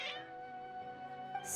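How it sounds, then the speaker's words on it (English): Cats meow in the video game Genshin Impact, a short agitated cry heard close and fairly clear over a quiet background hum, with a second higher call near the end. "Your cats seem pretty worked up."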